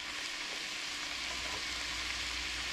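Cabbage cooks down in a single pot with a steady, dense sizzle and hiss, continuous and close, with no talking.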